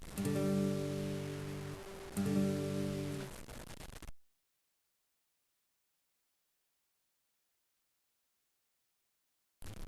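A single electric guitar power chord, fretted with the pinky on the 5th fret of the D string, rings out loud and alone, is struck again near two seconds, then cuts to silence.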